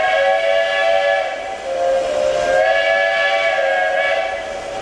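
A train whistle sounds nearby in a backyard during brass foundry work, a loud sustained multi-tone blast that swells, dips briefly and rises again over steady rumble.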